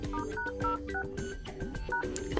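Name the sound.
dialer keypad tones entering *##06# on OnePlus Nord 2 5G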